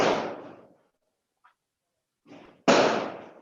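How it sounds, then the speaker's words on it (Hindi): Firecrackers burst outside: two loud, sharp bangs with decaying tails, one at the start and one near the end, a faint crack between them and a softer pop just before the second, at moderate distance, with no talking. "पटाखे फोड़ रहे हैं क्या लोग?"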